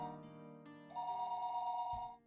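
A telephone rings in the Higurashi no Naku Koro ni visual novel, a sustained electronic ring tone that shifts pitch partway through, clear and moderately loud before fading at the end.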